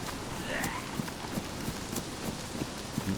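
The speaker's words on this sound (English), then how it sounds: "There was definitely footsteps" Footsteps in the survival game DayZ tread at a steady pace on rough ground, soft and somewhat distant, each step a dull thud within a constant hiss of wind or rain.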